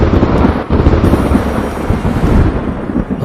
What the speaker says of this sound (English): A fearful peal of thunder